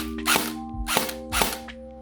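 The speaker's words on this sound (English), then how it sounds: "that's what it sounds like whenever it's dry firing" An airsoft AEG with a poorly seated magazine dry fires three times, each a loud, close mechanical whir and clack spaced about half a second apart over a low motor hum.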